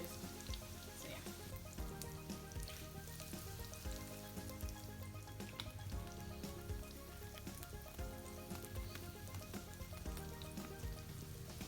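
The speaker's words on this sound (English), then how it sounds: "I'm just gonna let them cook on high heat so they can brown up, because they've cooked through" Potato hash browns fry on high heat in a pan, a continuous dense sizzle and crackle that stays steady and close throughout with no voices.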